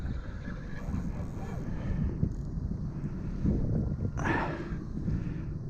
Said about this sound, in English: This is cold wind blowing in from the north